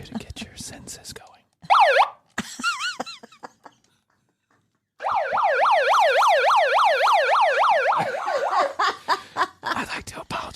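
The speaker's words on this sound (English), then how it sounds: "I'd like to apologize for the siren." A wailing emergency siren sweeps up and down in rapid repeated cycles, loud and close, first in short bursts and then sustained for several seconds; laughter-like vocal sounds appear near the start.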